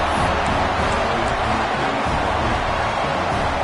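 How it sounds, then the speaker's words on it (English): A stadium crowd roars loudly and continuously at a college football championship game right after a Buckeyes touchdown, a dense, even wash of cheering with no pauses. "Listen to the crowd."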